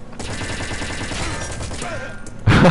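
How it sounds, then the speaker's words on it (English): A machine gun in a video game fires a steady, rapid rattle of shots that runs dense and close throughout, ending in a sudden louder burst. "I'm just going to pick up his machine gun and see if that allows me to murder him"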